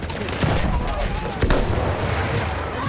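Dense, continuous gunfire from a First World War video game, with machine-gun bursts and rifle shots blending into a loud battlefield din and a sharper crack near the middle.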